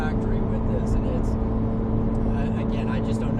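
Stock exhaust of a Chevrolet Corvette C8 Z06 giving a steady, loud engine drone with strong low harmonics throughout, heard close with people talking over it.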